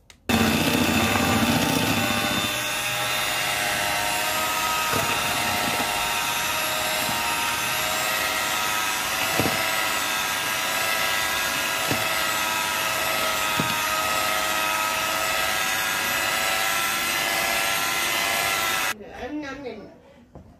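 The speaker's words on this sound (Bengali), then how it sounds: "এখন বিটার মেশিন দিয়ে বিট করে নিব। ভালো করে এটাকে বিট করে নিতে হবে যেন চিনিটা একেবারে গলে যায়।" A handheld electric beater whirs steadily for nearly twenty seconds as it beats batter for a large cake until the sugar dissolves, a loud continuous motor drone with faint knocks against the bowl, then cutting off near the end.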